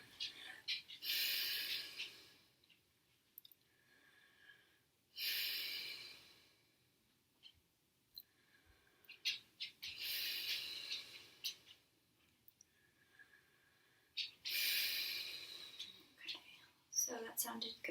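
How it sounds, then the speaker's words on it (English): A patient takes slow, deep breaths during a lung check with a stethoscope, four long airy breath sounds rising and falling close by, with soft rustles and faint clicks between them. "Should I do deep breaths or breathe normally?"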